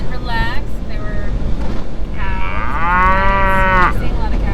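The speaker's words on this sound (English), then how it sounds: "We're seeing a lot of cows." Cattle on an Arkansas farm low with several drawn-out moos, one short call early and a longer, louder one later, heard over steady wind noise on the microphone.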